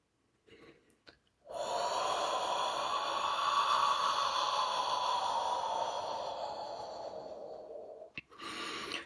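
Steady, soft breathy exhale sustained for about seven seconds, close and fairly even, preceded by a couple of faint short breaths and ending with a quick intake; no talking.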